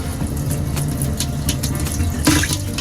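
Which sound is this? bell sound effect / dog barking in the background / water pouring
water pouring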